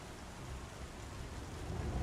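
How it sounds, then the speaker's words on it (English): Dense, steady hiss of rain falling during a storm in Star Citizen, a continuous soft wash of noise with a slight low rumble building toward the end, no voices. "oh great, the game has rain"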